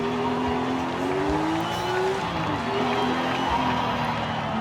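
A race car engine in Forza Horizon 5, a stock record car, drones steadily with rising and falling pitch through gear changes, loud and continuous over a faint crowd-like backdrop.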